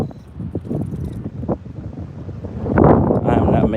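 Strong wind buffeting the microphone on the water during a fishing outing, rough low rumbling gusts that swell louder toward the end, with boat and water noise mixed in.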